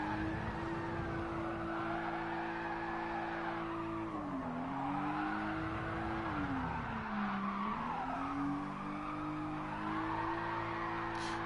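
A drift-spec safety car in GT Sport holds a steady, loud engine drone with wavering pitch through long slides, tires squealing continuously throughout.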